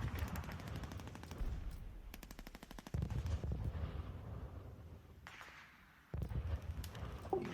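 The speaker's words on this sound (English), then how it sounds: "The machine gun will similarly fire at them." Machine-gun fire from a tabletop-style war game, burst after burst of rapid rattling shots in a dense, continuous barrage that drops away briefly before resuming loud near the end.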